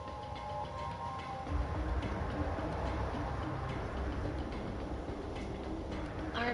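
Steady rumble and faint ticking of a train running along an abandoned central line in the video game Soul Hackers 2, a continuous mid-level rolling drone with light rhythmic clatter and no voices.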